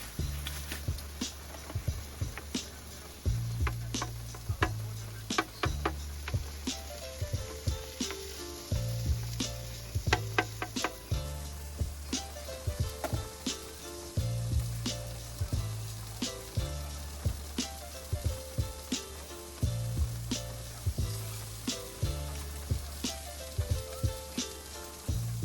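Potatoes and eggs sautéing on a griddle inside a van during a thunderstorm, a steady sizzle and crackle running throughout with rhythmic scraping and clacking of a spatula against the metal surface, close and fairly loud.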